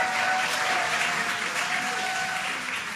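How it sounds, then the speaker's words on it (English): A crowd applauds and cheers during the SpaceX Crew 9 Dragon splashdown, a dense, steady wash of clapping that holds loud throughout with a slight fade at the end. "You can hear the crowd here."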